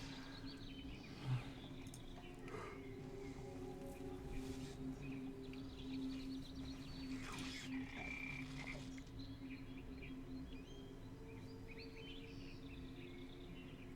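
Dire toad croaking in the fantasy game Hex: Shards of Fate, set in a forest, with repeated low croaks and chirpy calls over a steady ambient game soundscape, no talk.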